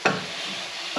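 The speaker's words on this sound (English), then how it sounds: "So give it a good saute." Chopped vegetables sauté in butter in a pan, giving a brief sizzling hiss, with a sharp stir or scrape at the start and another at the end.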